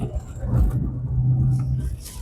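A small, underpowered Citroen AX hatchback rumbles steadily on the road, its engine droning low and continuous at close range with some road and cabin noise.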